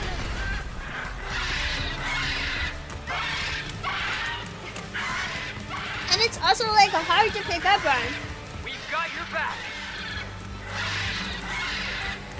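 A giant bird creature in the video game Tokyo Scramble lets out shrill, warbling screeches midway, layered over busy game effects and a person talking throughout.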